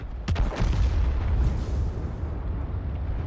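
An M44 artillery gun fires a round in a video game, a loud deep boom with a sharp crack followed by a long rolling rumble that fades slowly.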